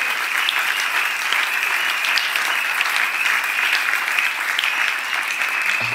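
A church congregation applauds steadily throughout, dense sustained clapping with a faint crowd murmur beneath, fairly loud and even from start to finish.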